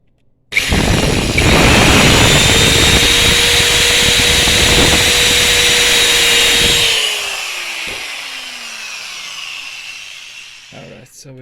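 A power drill bores a hole in a UV printer stand, running loud and steady for about six seconds with a falling whine as it winds down, then a couple of brief knocks.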